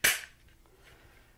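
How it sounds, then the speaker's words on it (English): A small wooden toy musket's firing mechanism snaps once, a single sharp close crack that fades quickly into quiet room tone. "The neat thing about this one is its firing mechanism."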